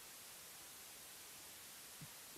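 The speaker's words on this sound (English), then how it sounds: "Now this is a white noise" Steady white noise from a synth's noise generator, a flat, even hiss with no rhythm or variation, faint and continuous on its own.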